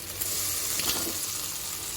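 A fish fillet slides into a pan of hot, slightly spicy sweet-and-sour sauce, giving a steady close sizzle with a brief louder hiss partway through.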